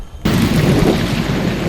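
Thunder of an approaching storm: one loud, sudden crack swelling into a deep, sustained rumble that fills the clip after a brief quiet start.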